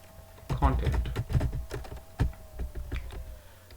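Rapid clicking of computer keyboard keys as someone types code, in short irregular bursts near the microphone, with a faint steady hum beneath.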